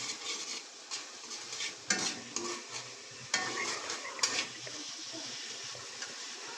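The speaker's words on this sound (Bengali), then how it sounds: "এখন এটাকে কষায় হচ্ছে আমরা, দেখেন কালারটা কিরকম চলে আসছে" Duck eggs with bean seeds being stirred and sautéed in a pan, with steady soft sizzling and repeated scraping and clinking of a spatula against the pan, close and continuous.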